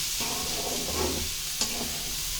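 Two ingredients are stirred together in a hot frying pan in Telugu home cooking, a steady close sizzle with soft scraping strokes and one sharper clink near the end.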